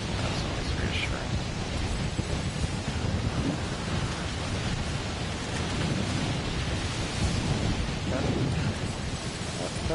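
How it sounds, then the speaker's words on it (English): Snowstorm wind in a video game, a dense, steady roar of rushing noise filling the whole clip without letup, loud and close. "Oh, snow storm."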